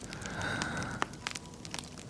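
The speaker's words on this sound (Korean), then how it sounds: "벽난로도 있네." A fire crackles softly in a fireplace, with faint scattered pops and snaps over a low steady hiss, close and quiet with no talking.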